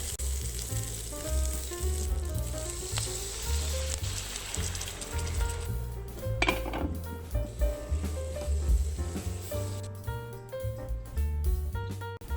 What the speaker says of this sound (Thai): ผมจะย่างพริกให้หมดก่อน